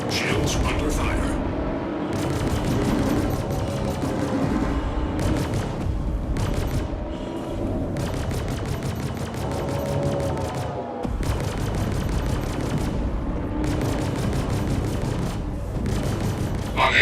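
Gunfire striking shields in a video game, dense bursts of rapid impacts and booms repeating in waves, with a voice talking over much of it.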